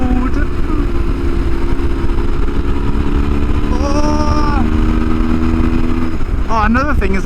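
A 23-year-old BMW GS motorcycle drones loudly and steadily on an open road with heavy wind rush, its engine note rising briefly near the end, and someone talking over the ride.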